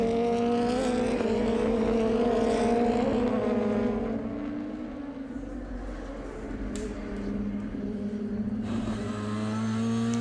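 DTM race cars at the Nürburgring in 2020, engines roaring loudly in the late laps of a sprint race, with sustained high revving and a car sweeping past nearby, its pitch shifting as it goes by.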